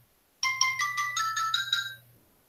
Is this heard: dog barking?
no